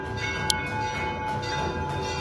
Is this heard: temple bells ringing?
yes